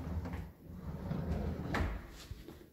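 Large kitchen pan drawers slide and thud shut nearby, a rolling rumble of runners with a couple of soft knocks, the loudest bump near the end, and no talking over it.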